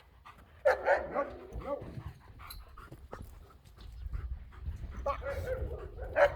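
Energetic dog during a training session, panting and breathing heavily with a few short yips and whimpers close by, while a person gives brief commands.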